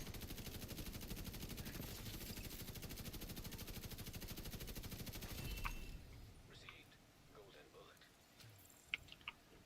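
Rapid, continuous gunfire in a video game, with dense automatic bursts dominating the first six seconds before thinning into scattered shots and softer game effects.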